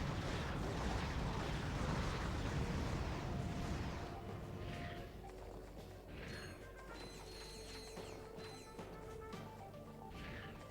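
Mega rocket cannon explosions from Ratchet & Clank 2 crash loudly at first, then settle into repeated booms and mechanical clanks, with game music and effects underneath.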